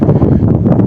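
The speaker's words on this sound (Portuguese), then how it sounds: "O vento está tão forte que está a derrubar os totem da Câmara Municipal" Strong gusting wind buffeting the microphone outdoors in Portimão, Portugal, a loud continuous low roar with rumbling surges and no clear voices.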